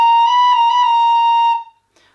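A single sustained tin whistle note, B flat played with forked fingering, rings clear and steady for about a second and a half, then stops abruptly.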